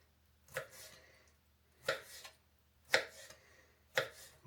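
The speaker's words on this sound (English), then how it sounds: "And then just chop it up" A smaller knife chops ingredients for baked chimichangas: four sharp, evenly spaced chops, close and crisp, with quiet gaps between them and no talking.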